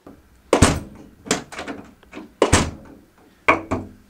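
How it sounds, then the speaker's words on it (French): An insulated door in a studio being rebuilt closes several times, each close a heavy, dull thunk with a short rattle after it, spaced about a second apart, close up, with no talking. "ça c'est une porte isolée qui se ferme"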